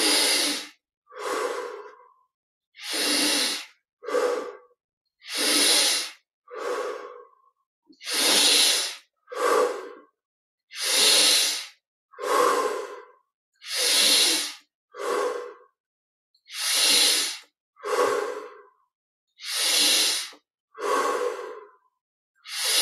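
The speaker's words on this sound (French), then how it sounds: "ces grandes respirations du corps" Slow, deep breaths during guided Kriya yoga meditation, about a dozen long inhales and exhales at a regular pace, close and loud with silence between them and no talking.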